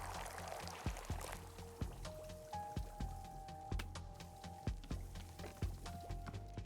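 Tea poured in the video game Wanderstop, a soft liquid trickle under a steady pattern of muted knocks and gentle tonal chimes, fairly quiet.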